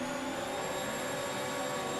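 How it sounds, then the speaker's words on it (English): Race cars in a racing video game rev their engines together on the starting grid, a steady dense whine and roar holding at constant loudness with no break. "They are all revving up"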